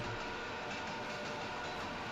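A train rolls past trackside on a rail line, a steady broad rumble and rattle of railcars, moderately loud and continuous with no talking.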